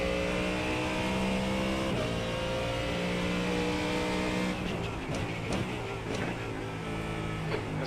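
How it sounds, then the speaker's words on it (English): Race car engines in the GT3 racing video game iRacing, a sustained whining drone with shifting revs as a faster car approaches and closes in, growing busier with layered engine and tire noise toward the end. "There's a faster car approaching."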